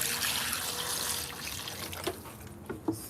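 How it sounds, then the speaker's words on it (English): Water from a tap pours steadily over meat being washed, a full hiss that thins to a trickle with a few wet splashes and knocks toward the end. "and then you add water"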